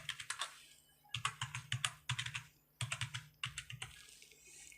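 Someone types an Aadhaar card number on a computer keyboard, several bursts of quick, crisp key clicks separated by short pauses, close and quiet with no talking.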